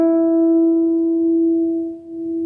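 A single sustained guitar lead note on the D string, sliding from the 12th to the 14th fret, ringing steady and clear with a slight dip near the end, heard alone.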